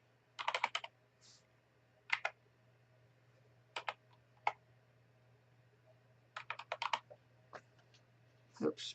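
Typing on a computer keyboard in short irregular bursts of crisp clicks, close and fairly quiet, with pauses between runs over a low constant hum.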